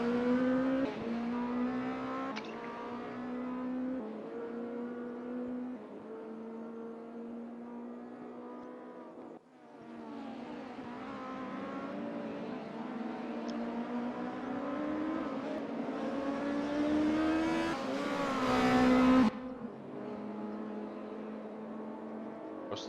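A DTM 92 touring race car in the RaceRoom racing game screams through its gears, engine pitch climbing in long runs with abrupt drops at each shift, loud and alone over a lap.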